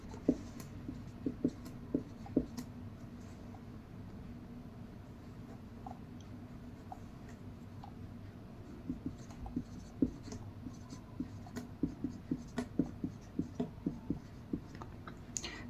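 A pen writes out a multiplication table on paper, steady faint scratching broken by sharp little taps and strokes at an irregular pace, close and alone with no talking.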